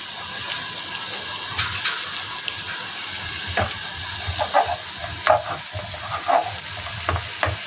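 Chopped garlic fries in oil in a pan, a constant close sizzle with scattered stirring scrapes and clinks over a running hiss, no voices.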